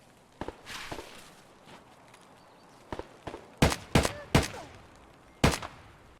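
Gunshots in the shooter game Escape from Tarkov: several sharp, loud single reports, a lone one then a quick cluster of three and a final shot, spaced apart over faint background footsteps.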